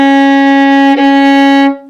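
A single sustained violin note, C sharp, bowed steadily for nearly two seconds with a clean, rich tone and a brief bow change midway, loud and alone before fading out.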